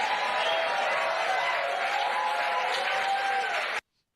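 A room full of people cheers and applauds in a dense, loud, continuous roar that cuts off abruptly.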